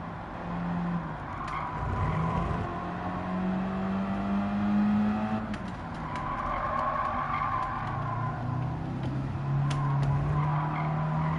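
A racing car in Gran Turismo 7 runs a fast lap, its engine note rising and falling through gear changes while the tires squeal and skid through corners, fairly loud and continuous.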